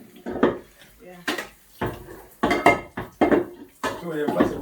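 Clattering of dishes, pots and cutlery being washed up in a home kitchen, irregular knocks and scrapes in short bursts with quieter gaps and faint voices in the background.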